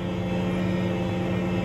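A crop-dusting airplane flies over a cornfield spraying fungicide, its engine a steady, loud drone with constant tonal hum throughout, no talk.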